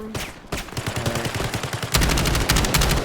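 Rapid automatic gunfire in a shooter video game, loud and continuous in dense bursts that grow heavier partway through, with no talk over the shots.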